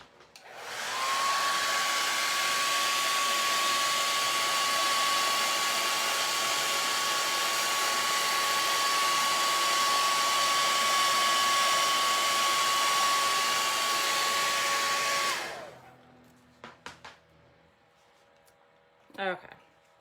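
A hair dryer drying fresh paint on a DIY farm sign, a loud steady whine with a constant high tone that runs about fifteen seconds, then cuts off into quiet room clatter.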